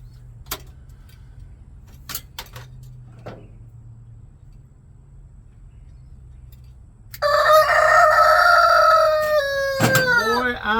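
A rooster crows loudly and close by, its call sustained and ending in a drawn-out downward note, after several seconds of quiet broken only by faint scattered clicks.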